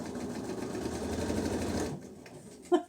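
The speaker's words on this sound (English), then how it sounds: "A bit of fast stitching." Sewing machine running in a fast continuous stitching burst for about two seconds, then stopping, followed by a few faint clicks and a brief louder knock near the end.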